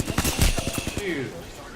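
Rapid bursts of video game gunfire crackle in a quick volley in a battle royale firefight, loud and close, with brief player speech alongside.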